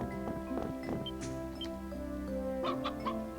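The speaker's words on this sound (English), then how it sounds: "Cluck cluck." Chickens clucking in the action RPG Ys: Memories of Celceta, a run of short rhythmic clucks and squawks over soft ambient game music, no talking.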